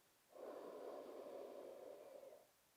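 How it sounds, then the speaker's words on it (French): A single deep, steady inhalation through the nose during a calm sophrology breathing exercise, close and soft, lasting about two seconds with no talking over it. "Vous inspirez"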